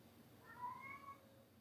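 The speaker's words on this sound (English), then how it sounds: "the cat starts to speak up and talk" A house cat lets out a single soft, rising meow, faint and brief against quiet room noise.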